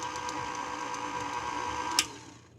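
A kitchen blender or food processor whirs steadily as it works butter into the dry ingredients for a devil's food chocolate cake, a constant mechanical hum that ends with a clack and a fading spin-down.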